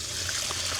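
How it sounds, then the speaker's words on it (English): Excess water trickling steadily from the holes in a seedling tray, a continuous soft hiss of dripping and flowing liquid with a low hum underneath. "this one has holes in it, and it's going to drip out any excess water there"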